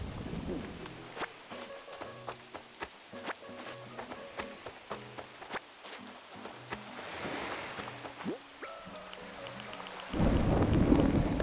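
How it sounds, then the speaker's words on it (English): A thunderstorm with rain plays in the video game Animal Crossing. Steady soft rain runs under game music, and a swelling roar of thunder rises near the end. "I love the thunder."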